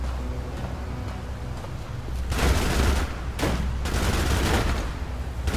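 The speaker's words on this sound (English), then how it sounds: "Who's shooting at me now?" Bursts of gunfire in the video game ADACA, several rapid volleys rattling loudly in the second half after quieter, sparser shots at the start.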